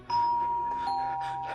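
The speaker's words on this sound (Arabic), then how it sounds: "ده جرس الباب بيضرب" A doorbell rings in an Egyptian Arabic radio drama, a single steady electric chime tone held for over a second, loud and close, with nobody speaking over it.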